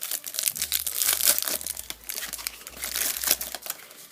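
Dry plastic crinkling and rustling of a Yu-Gi-Oh Synchron Extreme structure deck card packet being handled up close, with continuous irregular crackles over about four seconds and no voices.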